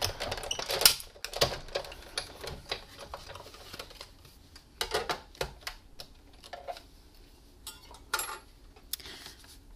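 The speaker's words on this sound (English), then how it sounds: "Then I'm going to place this carefully on my Big Shot and take my second cutting plate, put it on top, and now we're going to run this through." A Big Shot die-cutting machine runs cardstock between cutting plates, giving a series of sharp irregular clicks and clacks as the crank turns, close and fairly loud, louder at first and then sparser.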